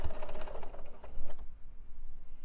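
A BERNINA sewing machine with the #12 foot bastes fabric in a quick, close, rapid stitching rattle for about a second and a half before stopping, leaving quiet room tone.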